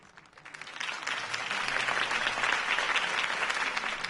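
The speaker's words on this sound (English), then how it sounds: "could have heard that applause" Crowd applause follows a mayoral campaign speech in a Batman video game, a dense clapping wash that swells within the first second and holds steady and fairly loud to the end.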